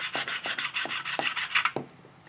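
A sanding block rubs across wood in firm, regular back-and-forth strokes, about seven close raspy passes at an even rhythm, with no voices.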